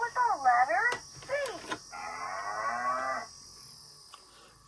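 A Fisher Price Quizard learning toy from 2006 plays a recorded cow moo several times, each low and drawn out, with a sharp click between them and a steady electronic hum underneath.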